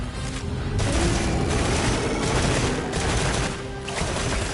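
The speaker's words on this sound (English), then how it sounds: "Got to shoot there to get my rapid fire gauge back" Rapid video game gunfire rattles on continuously, loud and dense, with bursts blending into a steady roar and no talk over it.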